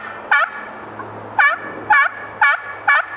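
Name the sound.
turkey gobbler yelp imitated on a turkey call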